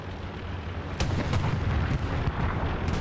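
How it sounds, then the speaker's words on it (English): Sherman tank cannon shots in a tank video game, several sharp booming blasts spaced about a second apart over a steady low engine rumble, loud and close. "Second Sherman's firing at him."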